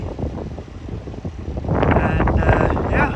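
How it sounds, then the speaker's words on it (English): Breeze on a hot farm field during baling, wind buffeting the microphone with a rumbling roar that swells louder partway through. "It is hot, but it is breezy."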